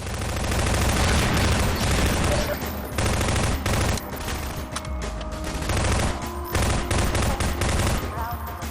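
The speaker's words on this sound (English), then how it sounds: "the machine gun feels pretty fucking good, and the sound effect attached to it is solid" Rapid machine gun fire in the shooter Half-Life 2, loud dense bursts of automatic shots mowing down Combine soldiers, with a few brief gaps between volleys.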